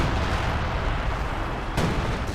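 Major Artillery barrage in Company of Heroes 2, an improved version of the strike. A dense, loud rumble of shell impacts and blasts rolls on without pause, with one sharper crack near the end.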